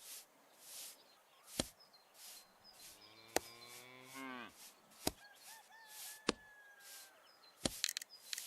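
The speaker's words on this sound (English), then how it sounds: "I'm going to put a cow on there." Cartoonish cow moo in a drawing puzzle game, a single clear drawn-out lowing call set among sharp chopping clicks and soft synthetic whooshes, with no voices.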